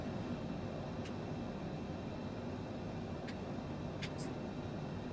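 Military jet in Microsoft Flight Simulator 2020 climbing through clouds, a steady, continuous engine roar filling the low and middle range, with a few brief faint clicks on top and no talk.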